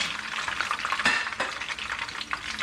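Aromatics sautéing in cooking oil in a pan for fish pochero with vegetables, a steady close sizzle with soft stirring scrapes and faint utensil clinks, no voices.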